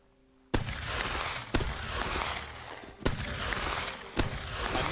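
Gunfire echoes through a castle siege in the Rising Sun video game, four heavy, booming shots spaced about a second apart, each with a long, rumbling tail.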